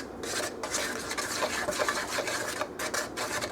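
Dry ingredients for oatmeal chocolate chip skillet cookies, with salt among them, being mixed in a bowl: a steady close scraping and stirring that runs continuously with faint clinks of utensil on dish.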